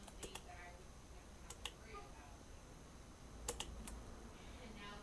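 Typing on a computer keyboard comes through as faint, scattered clicks in short bursts over a quiet room hiss.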